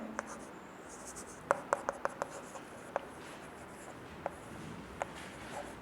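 Chalk or a pen taps and scratches as a teacher writes out a maths answer in a quiet room, a run of sharp, irregular strokes that cluster together and then thin out over a faint background hiss.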